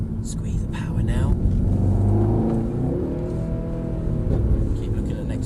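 A Mercedes-AMG car powers out of a corner on a circuit, its engine note rising steadily and droning close by throughout, while an instructor coaches the driver over the noise.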